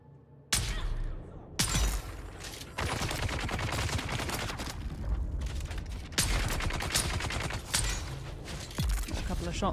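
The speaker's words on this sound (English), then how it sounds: "Shots in there." Gunfire in the video game Dune Awakening, bursts of loud rapid shots that start abruptly and run in long chattering stretches, with short pauses between volleys.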